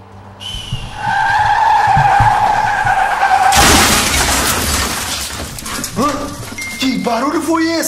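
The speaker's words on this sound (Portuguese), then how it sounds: "Ah, tem um acidente! Aconteceu um acidente lá fora!" A car crash in the Roblox game Brookhaven: a loud burst of impact noise and skidding breaks in after sustained tones, with game effects and voice-like sounds continuing afterward.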